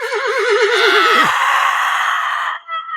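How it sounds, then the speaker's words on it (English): A horse on a battlefield gives a loud, close, wavering whinny that rises and trembles, then drops away into a breathy tail before a brief snort at the end. "A horse galloped across the battlefield, a bandit atop it"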